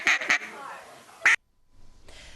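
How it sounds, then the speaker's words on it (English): Authentic duck call sounded for hunting in Lincoln: a few loud quacking blasts in quick succession, a short pause, then one more sharp quack, followed by a brief silence and faint background noise. "hunters who can master the loudness and allure of an authentic duck call"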